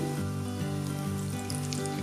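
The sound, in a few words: stuffed bafvada deep frying in hot oil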